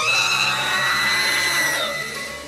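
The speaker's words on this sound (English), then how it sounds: "What is that soul-splitting scream?" A creature lets out a loud, piercing scream in The Incredible Adventures of Van Helsing: Final Cut video game, a sustained shrill wail that slides downward and fades over about two seconds.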